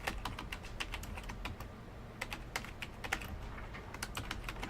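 Quick, uneven clicks of typing on a computer keyboard come in bursts and pauses, fairly faint and close, with no talking over them.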